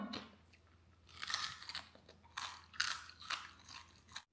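Crunchy chewing of crispy fried food, close and loud, in several bursts of crackling bites with brief pauses between, no talking.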